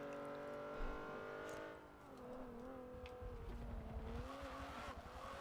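Tires squealing on a Honda Odyssey minivan in Forza Motorsport 7 as it understeers through corners, a sustained tonal screech riding over a steady engine drone, loud and continuous.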